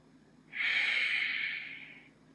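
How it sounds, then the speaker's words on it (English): A long, steady exhalation during a beginner vinyasa yoga flow, a soft airy breath rising quickly and holding for about a second and a half before tapering off, close and alone. "Breathing."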